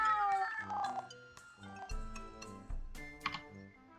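A cat meows briefly near the start within the video game Gensou no Keifu, over quiet game music with ticking, tapping clicks and no speech.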